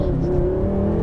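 A 2016 BMW M6 Gran Coupe pulls hard in first gear, its engine note climbing steadily in a loud, continuous rising drone heard from inside the cabin.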